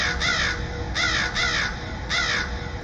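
Crows cawing up close and loud, four harsh caws in two spaced pairs, over a low steady background hum.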